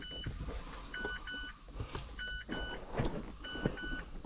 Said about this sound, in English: The car's beeping because I've got the ignition on, the door's open.